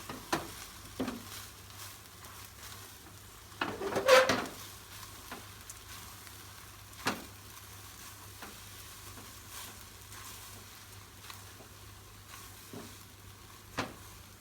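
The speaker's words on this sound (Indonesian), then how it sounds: "Diaduk lagi sampai rata." Hong Kong–style fried rice vermicelli with chili and scallions is stirred in a pan, a soft continuous sizzle broken by scraping strokes and one louder burst of stirring.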